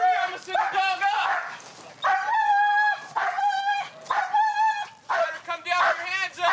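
Police dog barking in repeated loud bursts during an arrest of a suspect up a tree, with officers shouting commands nearby.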